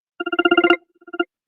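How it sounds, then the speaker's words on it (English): A phone rings with a fast run of bright electronic trill bursts, then a shorter second burst after a brief pause, loud and close with nothing else around it. "Let me cut this phone off."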